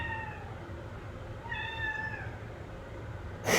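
A cat gives two clear meows, a short one at the start and a longer, drawn-out one in the middle, fairly close over a low background hum, followed by a brief rustle at the end.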